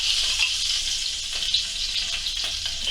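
Pheasant browning in oil in a frying pan, giving a steady, close, hissing sizzle with faint crackles throughout and no voices.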